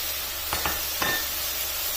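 Green capsicum tossed into a hot pan of tomato mixture for spaghetti cake, giving a steady soft sizzle with a few brief stirring scrapes and clinks, no talk.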